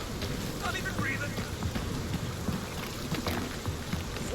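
Steady rain falling on an alien world in the video game Marvel's Guardians of the Galaxy, a dense, continuous hiss with soft low rumbling underneath that persists without pause.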